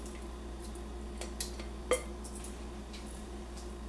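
Canned kernel corn and cream style corn go into a bowl, with soft wet squelches, light clinks and one sharper clank of a can or spoon against the bowl, quiet over a low steady hum.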